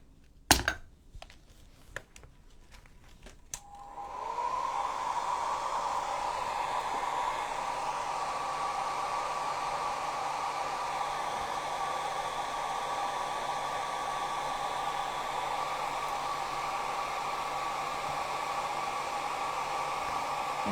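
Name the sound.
hair dryer drying a craft piece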